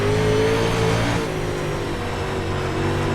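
A UMP race car at full throttle on the Volusia dirt track, its engine roaring loud and close, holding a steady high-revving drone with a slight pitch shift as it pushes through the turns.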